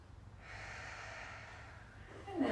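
A single full breath during a chair yoga session, a soft airy rush drawn out for about two seconds, close and quiet, with no talk over it.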